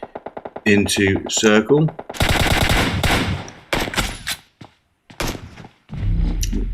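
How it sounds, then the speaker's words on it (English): Rapid automatic gunfire exchanges in a squad battle-royale video game, bursts of close, loud shots with pauses, and a commentator's voice heard briefly. "Exchanging shots with Noob Hunters from squad number 9"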